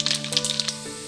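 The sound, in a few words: mustard seeds spluttering in hot oil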